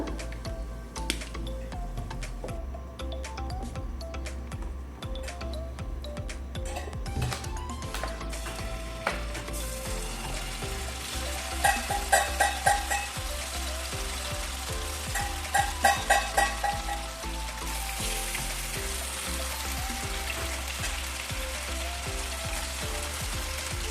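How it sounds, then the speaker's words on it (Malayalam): Chicken and potato mixture frying in coconut oil, a continuous crackling sizzle with a steady hum underneath and occasional brief bursts of ticking clatter, heard up close without speech. "ഇനി നമുക്ക് എല്ലാം ഒന്ന് ഫ്രൈ ചെയ്തെടുക്കാം അപ്പോൾ ഇവിടെ ഞാൻ വെളിച്ചെണ്ണ ഓയിലും കൂടി ഒഴിച്ചിട്ടാണ് കേട്ടോ ഫ്രൈ ചെയ്തെടുക്കുന്നത്"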